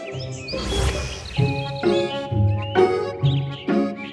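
Small birds chirp in short bright bursts, several overlapping calls repeating loud and close, with no talking.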